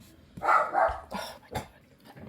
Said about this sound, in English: My dog barks now.